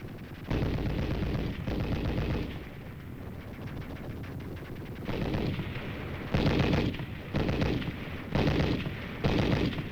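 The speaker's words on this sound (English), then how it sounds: "As the machine gun bullets spattered a murderous background to this baptism of fire, Chang kept on crawling" Wartime film battle noise: shells burst and machine guns fire in repeated loud, harsh volleys, bursts rising and falling over a constant roar of combat.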